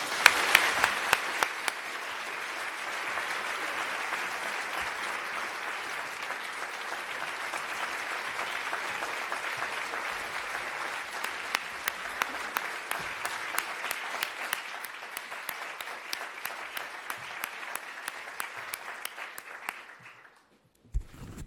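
Sustained audience applause at the London School of Economics welcoming Ursula von der Leyen, President of the European Commission, a dense even clatter of many hands for about twenty seconds that thins into scattered claps before fading out.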